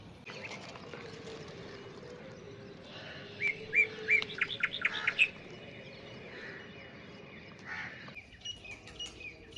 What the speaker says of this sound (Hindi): इस पंछी को हम यहाँ शिकरा कहते हैं, छोटी चिड़िया खाता है।